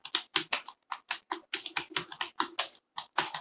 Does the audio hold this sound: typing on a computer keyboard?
yes